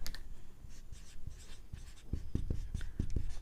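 Chalk or pen writing by hand during a physics lesson: a quiet run of short scratchy taps and strokes in irregular rhythm, close by and faint, with no talking.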